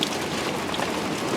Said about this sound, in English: Well, it's officially raining.